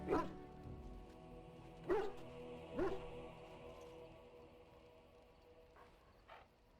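A dog in the video game Dragon Age: Origins gives a few short barks and yips, spaced irregularly and fairly close, over a quiet ambient background.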